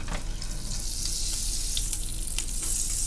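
Eggs and a pancake frying in a pan while breakfast is made, giving a steady close sizzle with faint crackles and occasional soft pops throughout, no talking.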